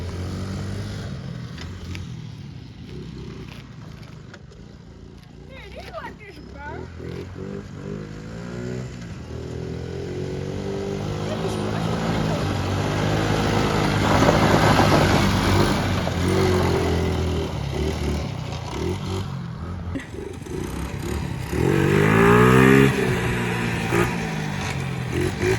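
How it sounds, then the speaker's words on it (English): A small Honda 4 Trax four-wheeler engine revs up and down continuously while being ridden, rising and falling in pitch with clattering and loud bursts near the end. "The little Honda 4 Trax is really fun to mess around on,"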